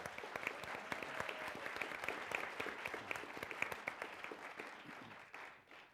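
An audience at an evening event with Democratic candidates for Massachusetts governor claps steadily to welcome a moderator, a dense, sustained round of applause filling the room before tapering off at the end.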